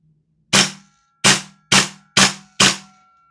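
Five sharp, loud shots from a Strike Industries MWS PDW airsoft gas gun fired on semi-auto, spaced irregularly about half a second apart, each with a crisp crack and short metallic ring, with no other sound between them.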